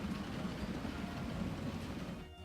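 A steam-era passenger train rolls steadily along a line in Transport Fever, with a continuous rumbling drone and clickety-clack of wheels, close and even, fading out at the end.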